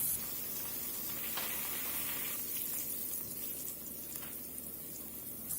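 Green chilies sizzle in hot oil with cumin seeds and asafoetida for an Indian red chickpea curry, a steady faint crackling hiss with no talking.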